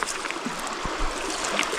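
River water flows past at a spot along the river, a soft continuous trickle and wash with small splashes and one low thump, close by and moderately loud, with no talking.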